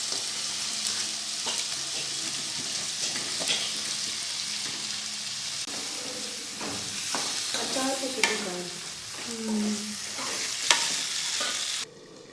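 Amla (Indian gooseberries) crackle and sizzle as they are stirred in a hot frying pan for a home-cooked potato curry, a steady close sizzle with spoon scrapes and rising pops toward the end.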